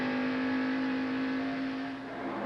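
A 1989 NASCAR stock car engine at Pocono holds a loud, steady high-RPM scream near 8,000 RPM, a sustained droning whine that dips slightly near the end.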